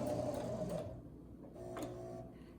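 A sewing machine runs in short bursts while back stitching a zipper into an old garment, a close whirring motor that slows and restarts.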